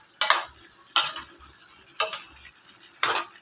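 Cauliflower and sayote stir-fry with oyster sauce in a pan, with four sharp sizzling bursts about a second apart as ingredients are tossed, each fading into a quieter simmer, close and without talk.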